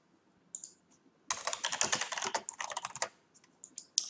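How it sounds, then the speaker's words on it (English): Quick typing on a computer keyboard, a dense burst of close clicking lasting about two seconds, with a few scattered key taps before and after and no talking. "Let me type it in."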